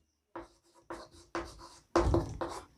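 Hand-writing of an answer during a physics lesson: five short, distinct scratchy strokes in an uneven rhythm, close and clear, alone in an otherwise quiet room.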